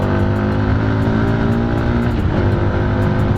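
A 2018 Hanway Black Cafe 125 motorcycle engine revved hard and held near the top of its range, a loud, steady, buzzing drone that rises slightly in pitch, heard up close with no talking.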